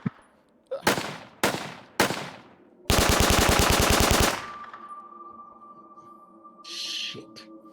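Machine-gun fire as a sound effect: several sharp single shots, then a sustained rapid burst of rounds, loud and close, fading into a lingering tone with faint noise afterward.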